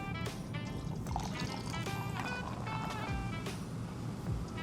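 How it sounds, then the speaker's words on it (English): Prosecco poured into a glass to top a spritz cocktail, fizzing and bubbling close up, a soft steady stream of liquid with crackling effervescence and small splashes throughout. "Final step, you're going to top with Prosecco."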